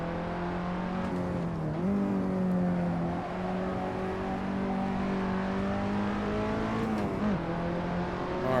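A KTM X-Bow race car in a sim racing game at Laguna Seca holds a steady, loud engine drone, with brief dips and revs as it shifts or lifts off around two and seven seconds, no talking.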